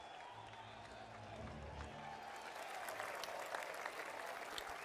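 A crowd in the golf video game PGA Tour 2K23 breaks into applause, faint at first and then swelling into steady clapping.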